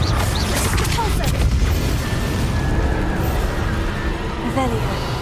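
A spell being cast in the video game Hogwarts Legacy, a dense booming burst layered with crackling game effects, continuous and loud, while a voice speaks over it.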